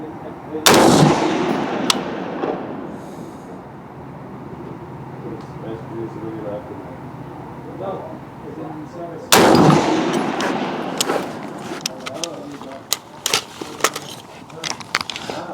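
An AR-15 rifle firing 55-grain ammunition lets out two sharp, loud gunshots several seconds apart, each followed by echo and ringing, with scattered clicks and light handling noise in between.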